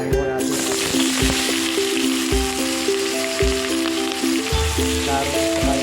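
Carrots and potatoes fry in hot cooking oil, a loud, steady sizzle and crackle running throughout with scattered pops, close up and with no talking.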